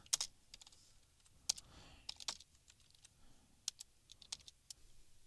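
Code being typed on a computer keyboard: irregular bursts of crisp key clicks with short pauses between, close and fairly quiet, no voices.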